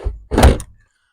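A cassette toilet cartridge handled inside a camper van cab, making a couple of close hollow plastic thunks, a short one followed by a louder knock and a sliding scrape, with no talk.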